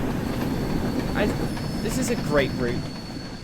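In the Train Sim World game on the West Somerset route, a train pulls into a station with a low rumble and a few squealing wheel notes, while someone talks over it.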